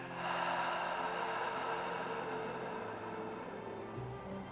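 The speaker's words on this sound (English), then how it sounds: "And again, full deep in breath. Let it all out." A deep cleansing breath during a guided relaxation session, drawn in and let out in one long, close, airy rush that fills the clip without talk.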